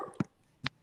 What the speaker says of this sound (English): The dog.